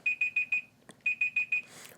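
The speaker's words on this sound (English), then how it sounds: "Sorry, that's my egg timer." An egg timer alarm rings in two bursts of rapid, sharp electronic beeps, four pulses and then another four after a brief pause, loud and close with no talking.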